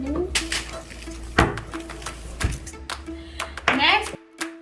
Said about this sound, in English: we mix together the sugar and the brown sugar and cinnamon